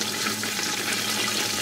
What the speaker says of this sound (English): And obviously, water is boiling.